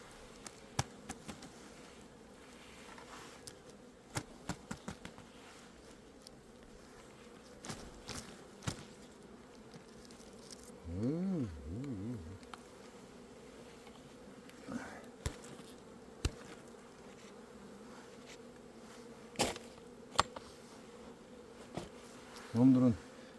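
A swarm of honeybees hums softly in the background, a steady faint drone broken by scattered close taps, a louder buzzing pass near the middle and occasional rustling.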